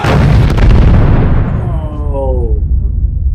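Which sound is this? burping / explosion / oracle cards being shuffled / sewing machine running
explosion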